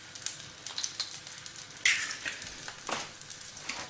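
Eggs fry in a five-in-one multi-section pan, giving a faint, steady crackling sizzle with small pops, heard close and on their own.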